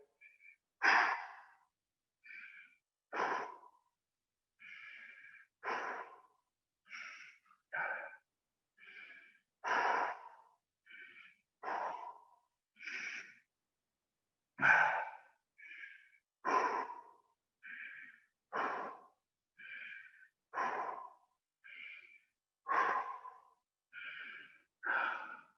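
Slow, deep breaths taken while holding a plank, each inhale and exhale clearly audible and close, repeating in a steady unhurried rhythm with brief pauses between them and no talking.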